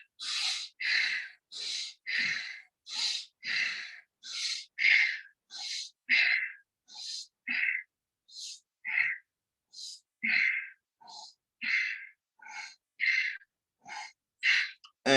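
Rhythmic, forceful breaths in and out during a chair yoga exercise, about two dozen short bursts at a steady pace, close and clear with silent gaps between them and no talking.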